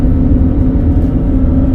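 A 3/4-ton gas pickup truck towing an 11,000 lb travel trailer over the Rocky Mountains, its engine held at high revs in a loud, steady drone with no talking.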